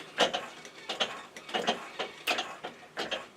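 A threading die in a die holder is turned by hand to cut a thread on a small Gauge 1 live steam model part, giving a regular series of close, dry metallic rasping clicks in a steady rhythm.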